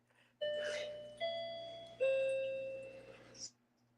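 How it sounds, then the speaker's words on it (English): A grandmother's clock sounds a chime of three descending bell-like tones, each struck and left ringing with a long, fading decay, heard close and clear over a quiet room. "I hear her clock go off a lot"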